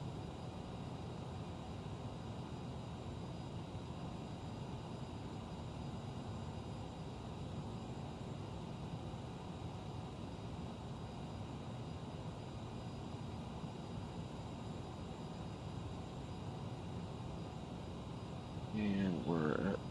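Steady jet engine roar and cockpit hum of a CRJ 900 airliner in Microsoft Flight Simulator, a constant broadband drone through the whole stretch, with a brief louder rise near the end.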